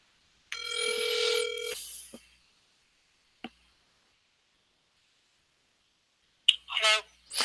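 An outgoing phone call on a cold-calling line: a bright electronic ring tone burst about a second long, a couple of faint clicks, then another short warbling ring pair near the end, with silence in between.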